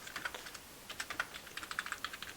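Fingers tap rapidly on a computer keyboard while code is written, a quiet uneven patter of crisp key clicks coming in two bursts separated by a brief pause, close and alone.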